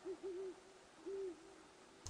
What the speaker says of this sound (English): There are few signs of life aside from the occasional hoot of an owl